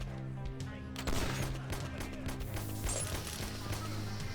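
Gunfire in the shooter Ashes: Hard Reset: bursts of rapid shots and sharp impacts over game music, dense and loud from about one second onward.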